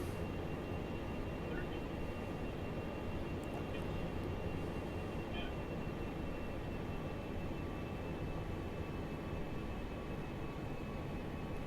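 A Boeing 727 lands in the X-Plane 11 flight simulator, its engine and airframe noise a steady, loud, broadband roar with a faint whine that holds unchanged for the whole stretch.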